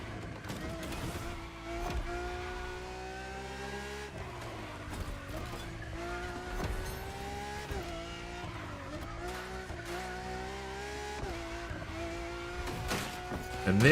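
A Lamborghini in The Crew Motorfest racing through tight corners, its engine droning at a sustained pitch that rises and dips with gear changes, tyres squealing at intervals, fairly quiet throughout.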